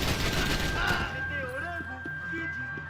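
A burst of gunfire from the video game Max Payne 3, rapid crackling shots loud at first, then fading out as music and a voice take over.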